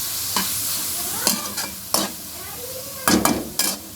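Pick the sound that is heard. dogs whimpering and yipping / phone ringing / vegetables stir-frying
vegetables stir-frying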